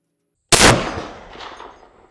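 A single sharp, loud shot from an Armalite AR-50 rifle at a 200-yard range breaks the silence, followed by a long rumbling echo that fades out over a second and a half.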